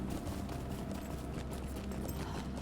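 Horse hooves clip-clop at a quick, steady gait in Lord of the Rings Online, the rhythmic thuds close and continuous over a busy ambient background.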